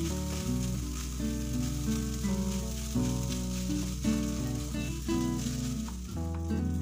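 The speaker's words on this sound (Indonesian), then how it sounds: "Ini diaduk-aduk sampai semua tercampur merata, dan saya tambahin juga margarin biar lebih gurih lagi rasanya." Leftover rice stir-fried with margarine in a pan gives a soft continuous sizzle and scraping, mostly buried under loud background music.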